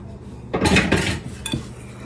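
A spoon works a bowl of bread batter made with flour and buttermilk, giving a loud clattering, scraping burst of about a second that dies away, then one shorter knock against the bowl.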